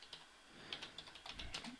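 Code is typed on a computer keyboard while programming a PIC18F4550 microcontroller, a quick uneven patter of soft keystrokes, close and quiet with no talk.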